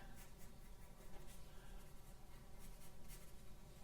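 A pen or pencil draws sketchy cartoon lines on paper, with repeated quick scratchy strokes close up that form a soft, continuous scraping texture.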